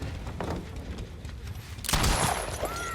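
A Deathslinger's gun fires in the horror game Dead by Daylight, a sharp, loud broadband blast about two-thirds through, after a stretch of quieter scuffling game ambience.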